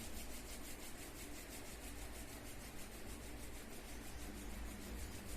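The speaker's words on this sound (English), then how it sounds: "Slowly lift your head up and rub your both palms. Generate the heat, generate the energy." Both palms rub together steadily in a continuous dry, hissing friction sound, close and even throughout, with no talking.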